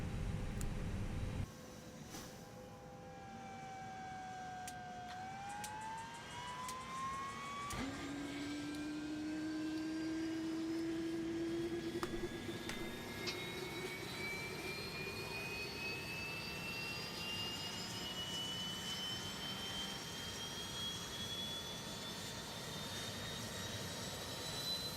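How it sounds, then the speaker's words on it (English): An Airbus A321neo auxiliary power unit spools up inside the X-Plane 11 cockpit, a rising turbine whine climbing steadily in pitch over a constant fan hum and airflow roar, loud and continuous throughout. "Beautiful startup of the APU there."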